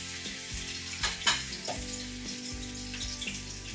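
Meatballs frying in olive oil in a skillet, a steady crackling sizzle with occasional spatters and a brief clatter, heard alone at moderate level.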